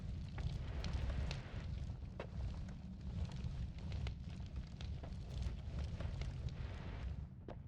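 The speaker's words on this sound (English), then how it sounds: "Why is there fire?" Fire burning in a video game, a dense continuous roar and crackle that stays loud and steady throughout, with no voices over it.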